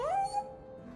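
A single short canine yelp or whine from a dog in the video game Dragon Age II, rising then falling, fairly close, fading into quiet.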